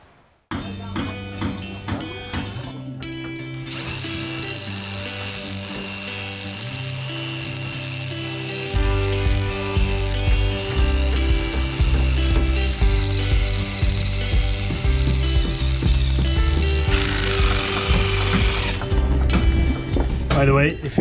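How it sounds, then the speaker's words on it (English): An impact driver bores a big hole through the top rail of a wrecked wooden schooner under restoration, a loud, steady mechanical whir and rattle running throughout and growing heavier partway through. "I'm using the impact driver to make a big hole"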